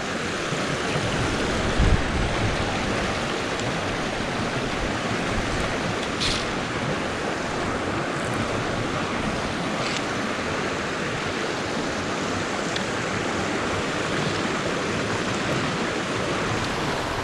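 A small wild brook trout stream in Pennsylvania flowing during a winter snowstorm, giving a steady, loud, close rush of running water that continues unbroken throughout, with a few faint clicks.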